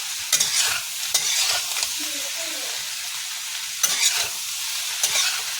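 A spoon scrapes and stirs mixed vegetable sabji in a pan over a high flame, with repeated scraping strokes over a steady frying sizzle.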